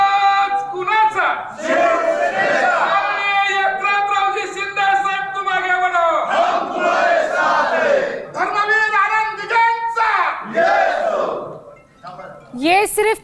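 A large crowd of supporters of Eknath Shinde chanting slogans in unison, loud and close, rising and falling in repeated shouted phrases and ending on a sharp burst of cheering.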